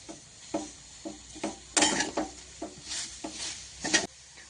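A utensil stirs and mixes a saffron-colored mixture in a pan, a series of close scraping and knocking strokes in an uneven rhythm over a soft background, with no talk.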